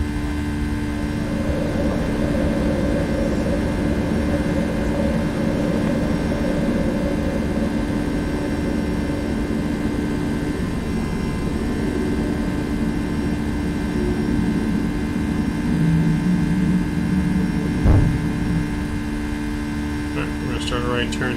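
Boeing 757 jet engines spool up for takeoff in the X-Plane 11 flight simulator, a steady loud roar with tonal hum layered over it, continuous throughout, with brief speech near the end.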